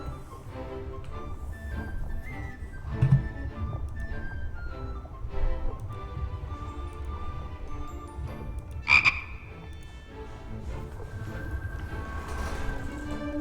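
Frog croaks from the video game The Book of Unwritten Tales 2, a run of throaty, repeated croaks over low game ambience, with a couple of sharper accents along the way and no speech.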